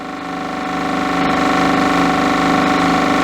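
An electro-magnetic pulse motor spinning at around 1500 RPM gives off a loud, steady whirring drone with rapid fine pulsing that builds slightly and then holds even.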